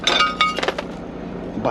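Broken plates clinking in a car after it hit a deep pothole: a cluster of bright glassy clinks and rattles close by, settling to quiet within a second.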